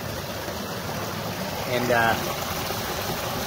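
Water runs and drips steadily over a rock edge at a small micro hydro intake, a continuous close trickle with a speaking voice over it.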